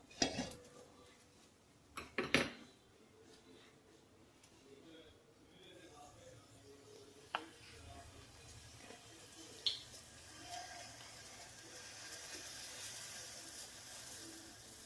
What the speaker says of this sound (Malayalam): ഇനി ഒരു ചീനച്ചട്ടി വെച്ച് കൊടുക്കാം.